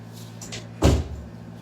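A room door swings shut with a single dull thud in a quiet indoor space, a brief soft knock with a short fading tail and no voices.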